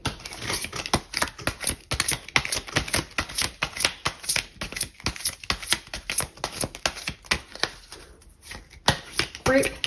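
Everyday Witch tarot cards being shuffled, a rapid run of crisp riffling flicks and slaps in an uneven rhythm, close and fairly loud, with a short pause near the end.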